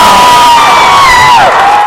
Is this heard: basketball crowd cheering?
yes